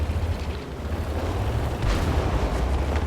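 Tank guns boom in a World of Tanks battle, a dense, rumbling barrage of low blasts that swells over a few seconds, with no talk over it.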